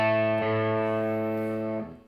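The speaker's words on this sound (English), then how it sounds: "As a B, I'm going to tune it down a step to A, and I'm going to make it match my A string." A single guitar note rings out clearly, the B string tuned down to A to match the A string, sustaining for under two seconds before fading.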